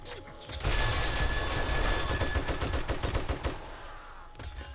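Rapid bursts of gunfire fill a 7 Days to Die firefight, dense overlapping shots rattling on loud and close for several seconds before tapering into a few sparse cracks at the end.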